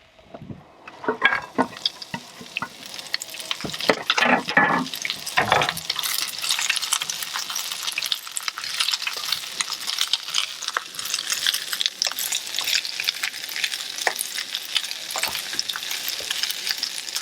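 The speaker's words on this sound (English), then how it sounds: "Doesn't take much to cook cabbage" Cabbage fries in a pan aboard a boat at Shroud Cay, opening with a few loud clanks of the utensil and pan, then settling into a steady, close hiss and crackle of sizzling as it is stirred.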